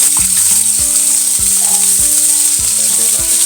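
Pieces of talakitok fish frying in hot oil in a pan, a loud continuous sizzle with repeated clunks of pieces being set down and moved every half second or so.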